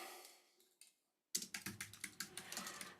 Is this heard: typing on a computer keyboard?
yes